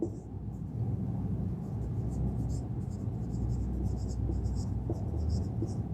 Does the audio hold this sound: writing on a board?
yes